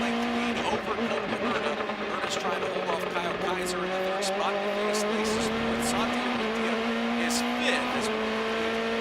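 Indy Lights race cars at Road America, engines whining and rising in pitch as they accelerate. Steady, fairly close, with a race commentator talking over them.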